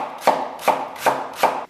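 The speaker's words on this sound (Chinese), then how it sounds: "首先，我们多准备一些大葱切碎" A kitchen knife chops scallions on a cutting board, four evenly spaced crisp thuds close by with short quiet gaps between them.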